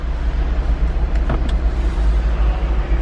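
A 2012 Volkswagen Jetta TDI with the 2.0 diesel engine cranks and starts, a steady low engine rumble holding close and even throughout, with a couple of faint mechanical clicks partway through.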